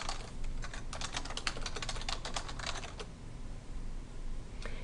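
Quick, steady typing on a computer keyboard entering words into a spreadsheet, a close run of crisp key clicks for about three seconds that then stops, leaving faint room tone with a few stray taps near the end.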